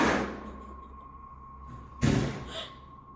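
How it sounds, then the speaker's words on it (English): A door slams shut with a single sharp bang, then a lighter knock, over a steady low hum inside a quiet room, following a louder thud at the start. "he turns to find the door from the other room has slammed shut again"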